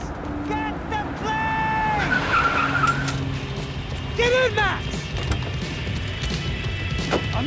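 In the Max Payne 3 video game, a car skids with repeated tire squeals and a revving engine amid action noise, while voices shout over the driving.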